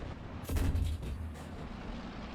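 An SU-122-54 tank cannon fires once in War Thunder, a deep heavy boom with a rumbling tail that fades into the steady background engine and battlefield noise.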